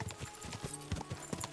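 Horse hooves clip-clop at a steady walking rhythm along a road in the video game Kingdom Come: Deliverance II, faint and close, with no other sounds over them.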